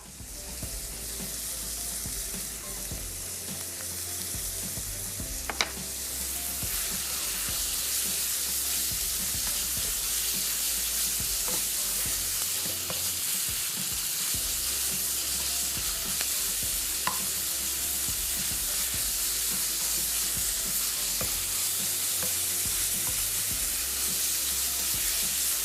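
Chicken shawarma pieces sizzle steadily in a hot pan with salt, a dense constant frying hiss broken by quick scraping stirs and occasional clinks, close and continuous without talk.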